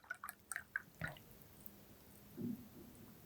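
Water splashing and dripping as it is poured into a container in a classroom demonstration: a burst of quick drips and small splashes early on, then quieter trickling and one soft slosh near the end.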